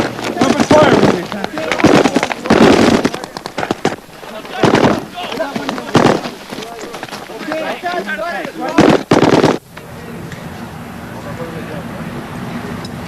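Gunfire rings out in a video game battle as loud, sharp bursts of shots and blasts crowd together, then drop away to a quieter rumbling backdrop near the end.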